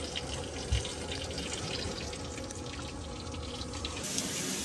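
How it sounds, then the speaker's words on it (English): Water runs steadily down a tub and shower drain, a continuous close hiss and gurgle with a brief thump early on and a brighter splash-like wash at the end. "we've been running the drain for a little while here"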